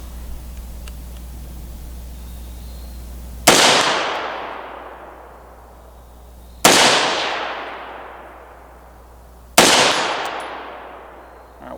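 Three loud rifle shots from a 14.7-inch chrome-lined PSA rifle firing steel-case ammunition, each a sharp crack with a long decaying echo, spaced a few seconds apart over a steady low hum.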